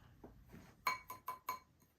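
A small glass clinks four times in quick succession, with bright ringing taps preceded by faint handling noises, close up and quiet.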